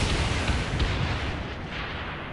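Bombs exploding in a dive-bomb attack in Saints Row 4, a dense roaring barrage of booms merging into loud continuous blast noise that eases off slightly toward the end.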